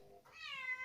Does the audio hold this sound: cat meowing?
yes